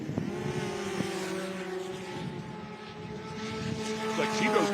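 A racing snowmobile with a Yamaha engine on an Arctic Cat Procross chassis screams steadily at high revs, a sustained droning whine that rises toward the end, loud and close, at a snow drag racing event.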